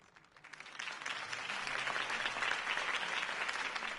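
A crowd in Batman: The Telltale Series breaks into sustained applause that swells within the first half second and keeps going steadily, dense clapping filling the space with no voices on top.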